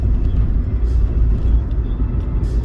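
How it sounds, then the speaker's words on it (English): A dump truck rumbling past close by, with a loud, steady low engine drone that holds through the whole stretch. "Oh, it's a dump truck."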